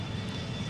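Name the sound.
Boeing 757 engine in Extreme Landings Pro flight simulator game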